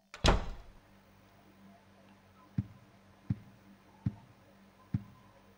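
Several dull knocks on a door in the Silent Hill 4 video game, four evenly spaced thuds after an initial heavier bang, moderately close in a quiet room with no talking.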